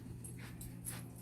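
Ramsey, a dog that needs to go outside to potty, gives a couple of faint, high thin whimpers over a steady background hum, with no talking.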